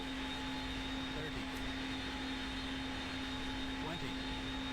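Airbus A330 jet engines idle during a landing in the FlightGear simulator, a constant broadband roar with a steady tonal hum underneath and a few faint transient blips, even and unbroken throughout.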